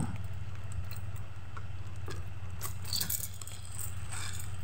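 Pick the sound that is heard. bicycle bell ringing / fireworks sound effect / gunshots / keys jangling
keys jangling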